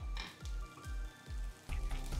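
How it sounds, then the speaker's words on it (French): Two steaks sizzle in a hot oiled frying pan, a steady loud hiss with rhythmic low thumps underneath, close and continuous with no talking. "Et ça grésille."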